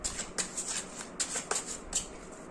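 Tarot cards being shuffled by hand, a crisp riffling and flicking in quick bursts with short pauses between, close and fairly quiet with no voice.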